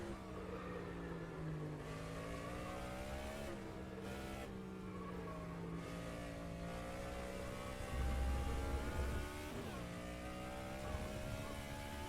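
A race car in the rFactor 2 driving game, its engine holding a steady sustained drone with rising and falling pitch through gear shifts and corners, continuous and fairly loud with no speech.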